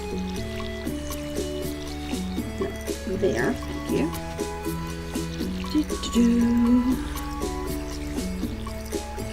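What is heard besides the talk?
watering plants with a watering can in the video game Stardew Valley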